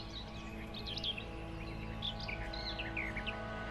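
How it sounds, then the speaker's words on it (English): Bright, varied bird chirps and tweets from the soundtrack of the video game Tetris Effect, arriving in scattered bursts over a steady layered background drone, moderately loud with no talking. "birds."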